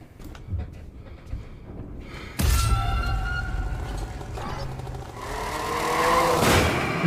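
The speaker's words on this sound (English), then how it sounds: "Did you just get hit by a car?" A car strikes someone in a FNAF video game: quiet, scattered noises, then a sudden loud impact followed by sustained engine roar with tonal whine, rising again toward the end.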